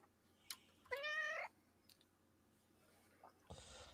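A house cat gives a single clear meow lasting about half a second, followed by a few faint scattered sounds and a brief rustle at the end, in an otherwise quiet room.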